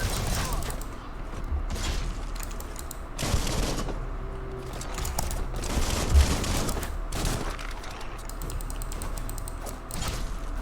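Gunfire in the BioMutant video game comes as several scattered bursts and cracks between mechanical creaks and clanks, with a voice talking intermittently.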